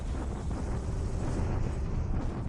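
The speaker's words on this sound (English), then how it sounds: "Okay, bombardment here on Java" Naval bombardment in the War in the Pacific strategy game sounds as a continuous loud, dense roar of rumbling explosions, heavy low end throughout with no pauses.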